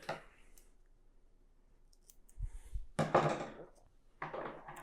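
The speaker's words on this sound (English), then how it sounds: "I'm using this transfer tape just to hold it in place while we heat press" Transfer tape being handled and pressed down to hold a design in place on a Vevor heat press: a few quiet, close crinkles and crisp tearing rasps separated by pauses, with a soft low thump.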